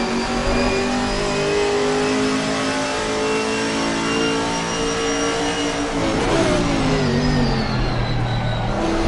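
Chevrolet GT race car in Assetto Corsa Competizione, its engine droning steadily at high revs with a rising and falling pitch shift near the end, loud and continuous with no voices.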